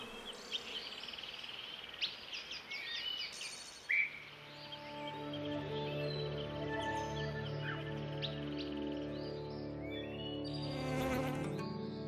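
Honeybees buzzing in a steady, layered drone of many wings, close and continuous, with a few sharper nearby passes at the start and a brief higher whine near the end.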